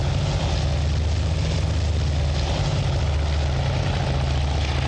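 A WWII propeller aircraft engine in the naval strategy game Task Force Admiral, set at the Battle of Midway, drones steadily and loudly throughout with a constant low roar and no pauses.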